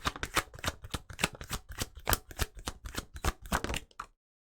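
Tarot cards being shuffled by hand in quick, rhythmic riffle bursts, a dense run of crisp snaps and flutters close to the mic that stops abruptly near the end, with no talking.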